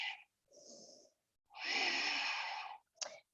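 A yoga instructor breathes audibly and close by: a short exhale, a brief inhale, then a long, heavy exhale ending in a quick sniff.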